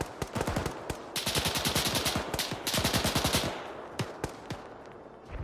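Machine gun fire in the military shooter game Arma 3, long rapid bursts of sharp close shots with brief gaps, then scattered single reports trailing off, loud and without talk.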